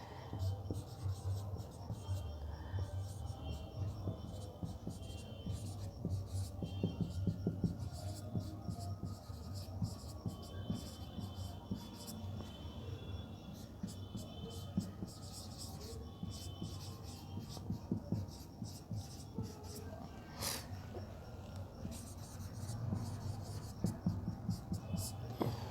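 Pen writing on paper while working through an English test paper solution, a steady close scratching and rubbing with short strokes continuing throughout, under a faint background hum.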